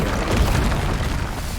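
An Incendio fire spell is cast in Hogwarts Legacy, giving a short, muffled fiery blast with a low boom and a brief rushing roar. It stands alone with no talk.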